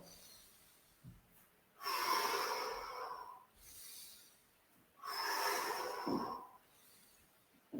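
Two slow, deep inhalations through the nose during a guided breathing exercise, close and audible, each lasting about two seconds with quiet pauses between and no talking.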